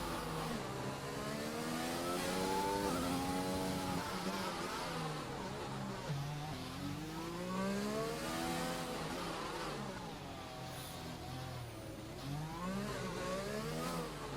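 A race car in a Monaco street-circuit video game accelerates and shifts through the gears, its engine note climbing and falling in repeated sweeps, loud and steady throughout with no voices.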